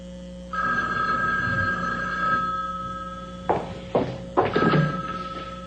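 A telephone rings in a steady, sustained electronic tone at close range, followed by a few sharp clunks and handling knocks as the receiver is picked up.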